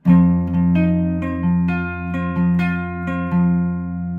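A sustained electric guitar chord with a steady, ringing tone, the pinky fretting the 10th fret on the B string, with small repeated plucks or pulses keeping it going, fairly loud and without any voice.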